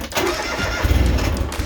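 A Kubota tractor engine cranks and catches on a grass-fed beef farm, a short loud starter whirr giving way to a rough low rumble close by, with no talking.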